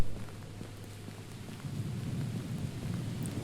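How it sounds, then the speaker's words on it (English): Steady rain hisses over a deep, rolling rumble of thunder that swells partway through, heard in the video game Unforgiving: A Northern Hymn with no voices. "Thunder and lightning"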